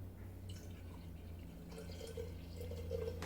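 Tea being poured from one vessel into another, a soft, steady trickle under a low hum of room noise, with faint drips and splashes building toward the end.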